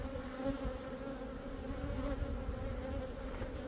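A close, continuous drone of many honeybees rises from an opened hive during a beekeeping inspection, holding an even level throughout with no talking.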